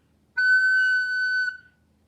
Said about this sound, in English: And here, the F sharp sounds like this.